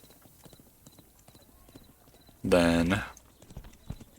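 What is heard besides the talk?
horses' hooves clip-clopping in the video game Thronefall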